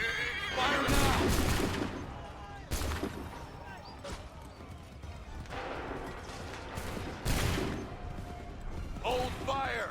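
Musket volleys from massed infantry in Assassin's Creed 3 crack out in several loud ragged bursts, each followed by a rolling decay, with horses whinnying amid the battle noise.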